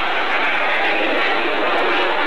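A jet fighter roars overhead in tight turns at the 1997 Sion airshow, its broad, steady engine rush holding loud and continuous throughout with no break.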